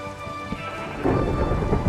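A Minecraft thunderstorm with steady rain hiss and a deep thunder rumble that swells louder halfway through, alone with no voices.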